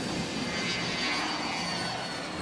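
Remotely piloted jet aircraft taking off from a tarmac, a steady, loud broadband engine roar that holds constant throughout with no voices.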